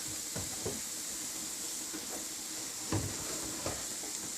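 A spoon stirs mixed vegetable sabzi with paneer in a pan, giving several soft scraping strokes over a steady low sizzle, close and quiet.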